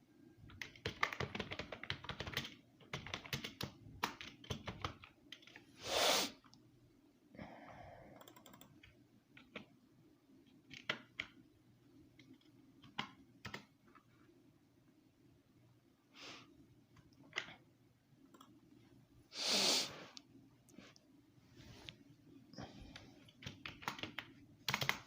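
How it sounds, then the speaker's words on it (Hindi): Typing on a computer keyboard, light irregular taps and clicks at close range with pauses between runs, plus a few louder thumps and some soft breathing in a quiet room. "तो हम इसको टाइप करते हैं"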